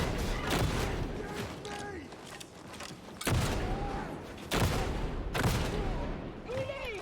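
Shotgun blasts in the co-op shooter Warhammer 40,000: Darktide, several loud, separate booming shots a second or so apart over a busy game-combat background, with a voice talking under it.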